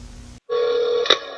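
A telephone rings once on a recorded police emergency call line, a steady electronic tone following a brief hiss and silence, loud and close.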